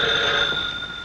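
An old-style telephone bell rings in a steady trill, close and clear, with no talking over it.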